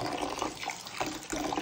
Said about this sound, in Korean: 바락바락 씻어줄게요